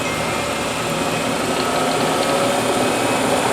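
Bridgeport Series II vertical milling machine with its spindle running steadily, a constant, fairly loud mechanical whir and hum with no pauses and no talking.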